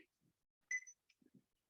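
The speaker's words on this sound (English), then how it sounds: "And there's your timer." A workout timer goes off once during an exercise session, a short bright double-tone beep near the middle with faint soft taps around it, otherwise quiet.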